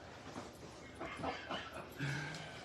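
A dog whimpers in short, faint whines against a background of room noise, with a brief higher whine near the end.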